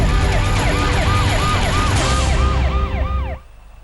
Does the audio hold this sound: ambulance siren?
yes